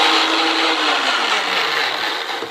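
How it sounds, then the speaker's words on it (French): A kitchen blender grinds flax seeds at full speed, a loud, dense whirring roar that holds steady for a couple of seconds and eases slightly toward the end. "on le passe au mixeur. Comme ça, ça va nous faire des petites graines de lin mixées"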